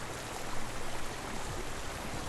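A waterfall in the video game Hellblade rushes in a dense, steady roar, moderately quiet and unbroken, with no voices.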